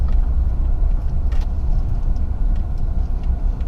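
A four-wheel-drive vehicle drives along a rough, open dirt road, giving a steady, close, loud low rumble of engine and tyres with occasional faint rattles over the whole stretch.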